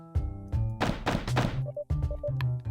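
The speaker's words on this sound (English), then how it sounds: "like the FBI banging at my door like that" Loud, heavy thuds of someone banging on a door, several hard knocks in quick bursts over a low sustained musical drone.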